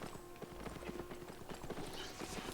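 Mount hooves clip-clopping steadily in Albion Online while riding through a tier 4 zone, a quick regular trot of light clops over faint game ambience, with no talk.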